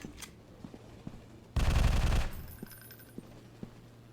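Video game Alien Invasion 2 lets off a single loud burst of rapid automatic gunfire lasting under a second, with faint clicks and game sounds before and a soft electronic tone trailing after.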